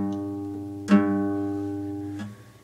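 A single acoustic guitar strum with the middle finger fretting the 3rd fret of the low sixth string, ringing and sustaining alone, followed by a second lighter strum near the end.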